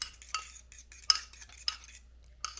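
A fork stirs 3 tablespoons of melted butter into a cinnamon sugar crumble, giving soft scraping clicks and taps against the bowl in an irregular rhythm, close and fairly quiet, with no talking.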